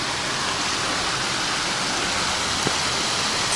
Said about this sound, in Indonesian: ada sungai